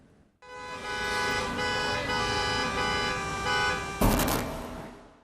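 Bengaluru road traffic with a long, loud sustained car horn blaring over engine noise, then a sharp burst of horns near the end, close and continuous.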